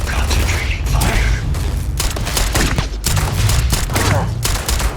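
Dense gunfire in the sci-fi game Starfield, with rapid bursts and heavy booming shots hammering almost continuously, loud and close, with brief mechanical clanks between volleys.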